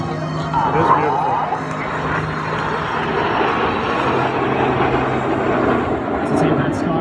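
Red Arrows jet aircraft climbing in formation, a sustained roaring engine rumble that swells and drifts, heard at a distance beneath steady commentary from a narrator.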